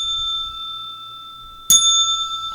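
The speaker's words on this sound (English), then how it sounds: "I think you could ring the bell twice on a daily double." A bell rung for a daily double soybean trade gives one bright, ringing strike that sustains and fades slowly, with a second clang layered in sharply partway through, in an otherwise quiet room.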